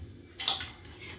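A utensil scrapes and presses cooked dal in a metal pot for dal makhani, producing one brief soft clatter with a faint metallic scrape following it, close and quiet with no talking.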